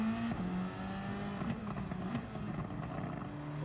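A race car engine revs through its gears in a racing video game, a steady droning tone that drops at a gear change and then climbs again, moderately loud with no talking.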